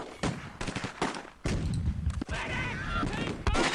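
Bursts of MG42 machine-gun fire in the wartime video game Close Combat, repeated volleys with sharp onsets, loud and close, with a voice talking over part of it.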